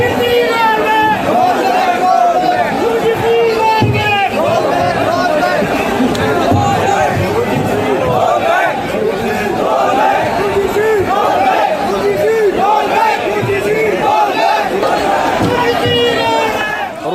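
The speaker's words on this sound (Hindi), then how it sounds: "उसके बाद फिर नारेबाजी शुरू हुई।" Protesters packed together at Jantar Mantar shout slogans against reservation and the UGC rules. A dense, continuous crowd din of overlapping voices, loud and close, sustained throughout with no pauses.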